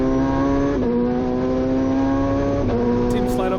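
Onboard the MCA Hammerhead time attack car at Sydney Motorsport Park, driven by a driver with a sequential gearbox, the engine drones at steady high revs with two quick gear-change dips; a voice may be faintly present underneath.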